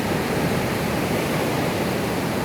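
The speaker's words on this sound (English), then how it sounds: "Whoa, the water's trying to get into my shoes" Rushing water surging right up close, likely waves washing in around someone's feet on a shore, a steady, dense, loud hiss that fills the whole moment with no voices.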